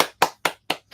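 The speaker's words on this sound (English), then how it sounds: "Claps." Hands clapping four times in an even, quick rhythm, each clap a crisp close snap with a short decay, then silence.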